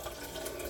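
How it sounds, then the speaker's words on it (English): Soup of roasted red pepper and cauliflower poured into an Instant Pot, a steady liquid pour with faint splashing, alone and brief. "take out my Instant Pot and try pouring the last of this"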